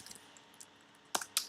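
Two sharp keyboard key presses land close together near the end, crisp and near, after a stretch of quiet desk noise and a few faint clicks.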